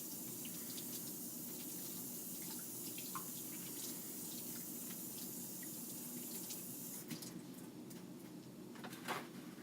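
Hands being washed under a steadily running tap in a sink, a continuous close water rush with small splashes and a faint knock near the end, no talking.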